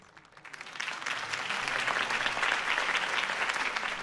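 Video game crowd applause breaks out, swelling quickly and holding as a dense, steady clapping roar.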